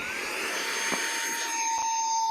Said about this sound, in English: So let me get the beetle gun because we don't want them escaping.